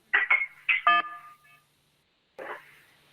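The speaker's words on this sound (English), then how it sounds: "Please stop pushing the button. Hang up the phone." Telephone keypad buttons pressed on a call line during a township council meeting: several short electronic beep tones in quick succession, then a pause and one more tone, thin and close.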